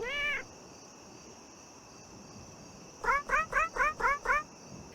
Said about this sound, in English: You're greeted by a strangely unfriendly talking cat.